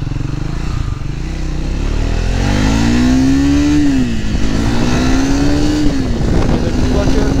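A Triumph Speed 400 motorcycle engine is started, then pulls away in first gear. A loud, close single-cylinder drone rises in pitch through rev sweeps and gear changes and runs continuously throughout.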